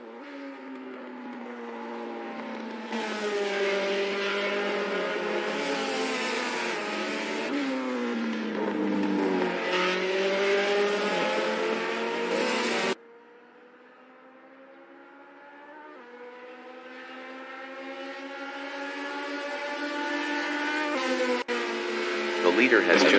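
Race car engines in a sim racing game rev and climb through gears, with a sharp cut partway through and then a rising whine, heard alongside a voice talking.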